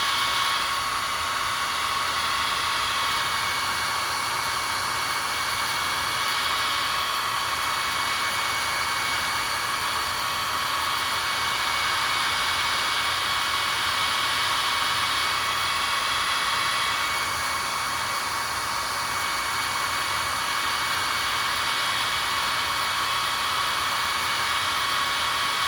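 Hair dryer blowing steadily on acrylic paint on a canvas, a loud continuous airy whir that holds unchanged for the whole stretch with no pauses.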